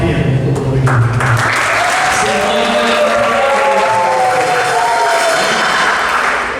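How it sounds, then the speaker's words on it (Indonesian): A church congregation at an HKBP Palembang anniversary service claps in sustained, dense applause that fills the room, while a voice speaks over it. "mari kita berikan aplaus kepada para panitia yang sudah bersusah payah"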